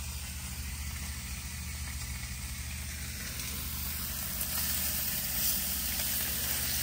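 Bacon sizzling in a pan over breakfast, a steady, even crackle and hiss that holds at a constant level and grows slightly louder and denser partway through, with a low hum underneath.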